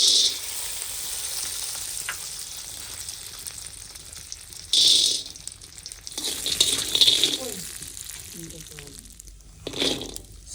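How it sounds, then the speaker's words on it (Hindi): Almonds, pistachios and cashews roast in desi ghee with a soft continuous sizzle, punctuated by several louder stirring scrapes and bursts of frying, while someone talks. "सारे ड्राई फ्रूट अब की बारी साथ ही रोस्ट किए जा रहे हैं देसी घी में।"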